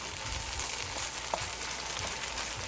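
Cooked rice fries in a little oil in a pan, giving a steady, soft sizzling crackle that runs throughout with small pops scattered over the hiss.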